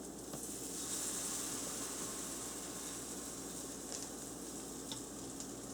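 Blackberry pancake batter sizzles steadily in a very hot pan, a broad continuous frying hiss heard close up with no talking and a few faint clicks near the end.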